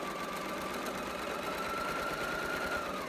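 Sewing machine stitching a wave stitch along a seam on a quilt, a steady continuous whirring hum with fine rapid needle rhythm, close and uninterrupted.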